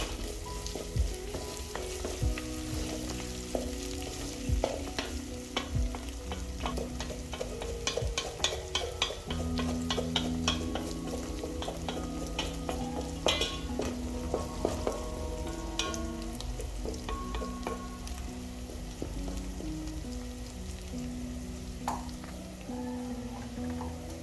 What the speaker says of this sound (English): I'm going to add in my whole pilau mix. Let that toast in the oil so that it can release its aroma.